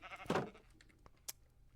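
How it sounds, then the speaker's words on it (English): A single short sheep bleat from the Minecraft video game sounds close and clear, followed by faint clicks and a brief sharp tick in otherwise quiet surroundings. "So I brought some animals down here, specifically sheep."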